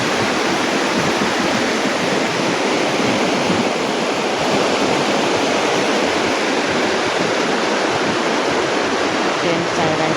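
Heavy flood water rushes through a village area in Vietnam, a loud, steady roar of churning water that fills the whole stretch without pause.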